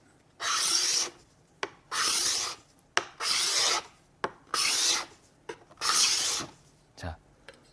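A card scraper drawn across rosewood, lifting curled shavings: six or seven sharp, rasping strokes in a steady rhythm, each about half a second long, close and loud with short quiet gaps between them.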